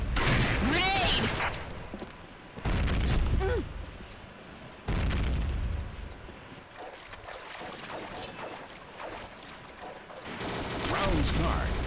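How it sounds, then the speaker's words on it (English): Grenade explosions in the Combat Arms shooter game burst as loud booming blasts, several separated by a few seconds, amid gunfire and the game's background noise. "Grenade."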